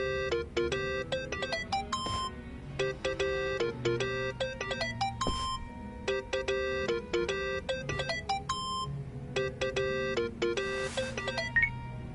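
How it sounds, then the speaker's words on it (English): A cell phone rings in the Yakuza: Like A Dragon video game, a clear electronic ringtone melody repeating in rapid chiming bursts, steady and fairly loud throughout. "Think that's your phone, man."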